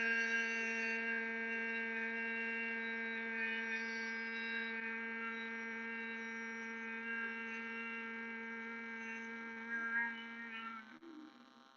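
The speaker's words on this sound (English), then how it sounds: "hold that inhale, 1, 2, 3, and then make your humming sound" Group humming during a meditation breathing exercise, eyes closed and ears covered: a steady, sustained hum with rich stacked harmonics, fairly quiet and unbroken for about ten seconds before fading out.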